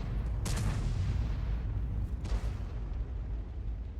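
Two heavy booms from a Bat.-Châtillon 155 self-propelled artillery gun firing in a video game, each a sharp blast with a long rumbling tail over a constant low roar.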